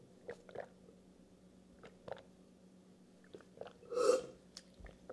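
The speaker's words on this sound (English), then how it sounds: "I'm just going to drink it." Someone drinks a creamy chocolate fudge protein shake, making a few quiet wet gulps and swallowing noises in a hushed room, with one louder slurping gulp partway through.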